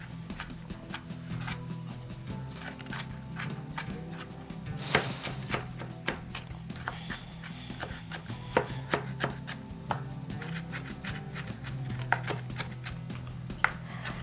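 Tomatoes for vegetable pulao are chopped roughly on a board with a knife, giving quick, uneven taps that are close and moderately loud and continue steadily throughout.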